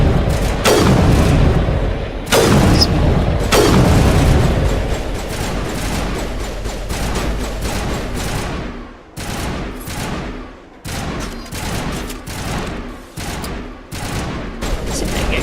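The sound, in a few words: gunfire in the video game Mass Effect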